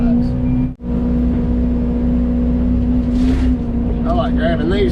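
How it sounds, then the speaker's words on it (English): An excavator engine runs steadily nearby with a loud, even diesel drone and a constant low hum, briefly cutting out for a moment before resuming, while hydraulic whines rise toward the end. "throwing the bucket back on the excavator"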